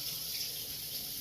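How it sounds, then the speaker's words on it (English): A kitchen sink tap runs while the water warms up, giving a steady, close rushing hiss with no pauses and no voices. "The water in my sink is kind of hot, so I'm gonna go ahead and let that warm up."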